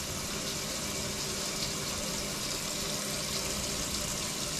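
Water drains from a cooking pot into a kitchen sink during chili preparation, a steady, close rushing and gurgling flow that holds even throughout.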